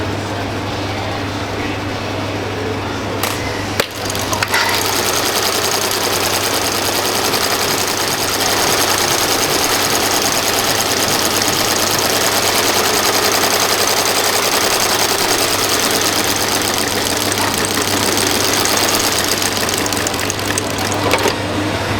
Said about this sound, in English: He's going to do the stitching to attach the sole to the rest of the shoe.